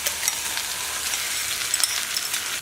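Beaten egg hitting a hot pan for scrambled eggs, a bright steady sizzle and crackle with small pops scattered through, close and constant with no voices.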